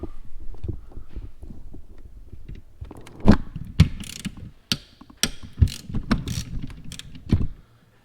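Small 10mm bolts with washers being started by hand-tool into a 3rd Gen 4Runner cylinder head, a run of close metallic ratchet clicks and clinks, sparse at first then denser sharp ticks over low workshop rumble.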